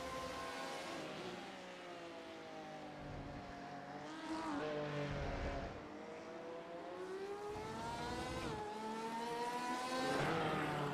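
Race cars in a GT racing video game cross the finish line at Spa, engines droning and revving in overlapping waves that rise and fall as cars pass, loud and continuous.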